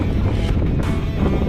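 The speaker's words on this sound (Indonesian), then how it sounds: "Anginnya mulai datang" Steady wind on the open sea aboard a small fishing boat during the west-monsoon season, a continuous loud rushing roar with low buffeting, mixed with boat and water noise throughout.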